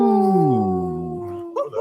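A white wolf gives one loud, close, drawn-out howl that slides downward in pitch and fades, followed by a brief burst of other sound.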